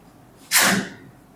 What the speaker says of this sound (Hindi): बड़ी भयानक छींक आई।